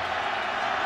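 A football stadium crowd at a Washington versus Boise State game, a dense, distant wash of cheering noise heard briefly and steadily.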